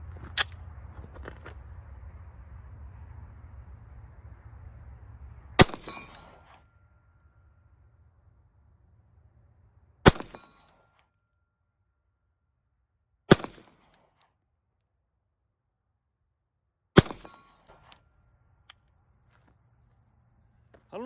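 CZ P07 pistol fired at a 50-yard target: four loud, sharp shots spaced several seconds apart with near silence between them, the first one heard over a steady background hum.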